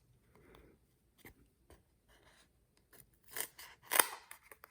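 Scissors cutting across a piece of card stock for a birthday card, a series of short crisp snips and crunches, sparse at first and then louder and quicker toward the end, close up.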